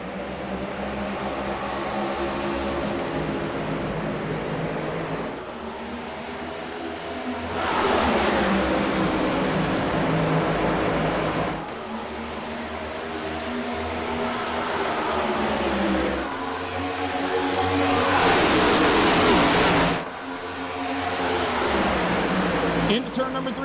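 NASCAR Cup stock cars roaring away on a restart at Atlanta, engine tones rising and falling in waves as the pack accelerates, with a commentator talking over the loud racing noise.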